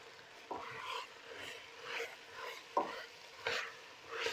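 Macaroni pasta is stirred in a cooking pot, giving soft scraping strokes that come in separate swishes roughly every second, close and quiet.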